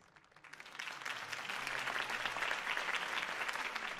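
A crowd cheers and claps after a campaign speech in a LEGO Batman video game, the applause swelling from quiet to a sustained, even roar that holds for several seconds.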